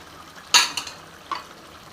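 A spoon scrapes and clinks in a bowl while stirring turmeric and biryani masala into yogurt for vegetable biryani, a few brief metallic knocks over quiet background.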